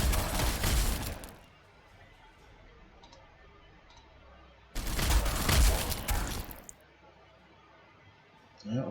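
Weapon fire in the Warhammer 40,000: Sanctus Reach strategy game comes as two loud, dense bursts about three seconds apart, each roughly a second long, with a quieter stretch of battlefield noise between them.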